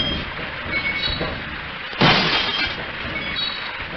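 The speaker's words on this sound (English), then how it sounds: "I can break the glass." Glass shatters in Half-Life, a sudden bright crash rising abruptly midway through and trailing off over a steady low background rumble, with no voices.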